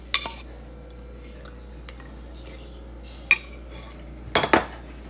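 Cutlery clinks against a dish while someone eats ground beef, a few sharp, scattered taps and scrapes over a low, steady room hum.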